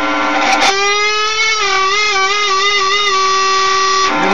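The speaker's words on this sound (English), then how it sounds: "Pluck the string. Then while holding onto the string," Electric guitar note plucked at the 12th fret and bent, with the pitch rising and wavering in a vibrato-like sweep before it is released, loud and close with no voice.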